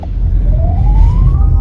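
Heavy road traffic heard from inside a car, with a steady loud low rumble of engines throughout and a brief rising whine from a passing vehicle.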